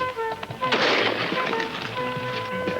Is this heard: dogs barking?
no